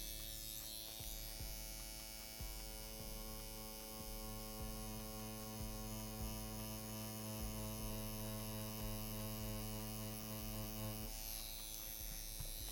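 A Mast Fold Year of the Tiger Edition tattoo machine set to a 3.6 stroke runs alone, with a steady, close electric buzz and hum that stays level throughout.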